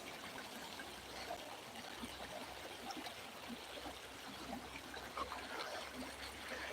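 Deer Creek flows steadily nearby during gold panning, a soft continuous babble and trickle of shallow water with no talking.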